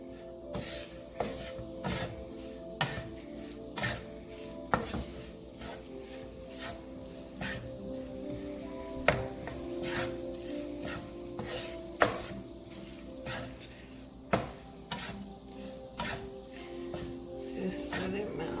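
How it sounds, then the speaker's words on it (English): Butter melting in a pan over medium heat gives a soft continuous sizzle, punctuated by regular sharp clicks and scrapes of a utensil stirring against the pan. "you're just gonna let this butter melt"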